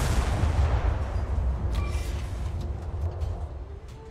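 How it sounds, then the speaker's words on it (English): A tank cannon fires in War Thunder Ground Forces, a heavy booming blast with a long rumbling tail that slowly fades over several seconds, loud and close, with no talk. "I want to shoot at this guy"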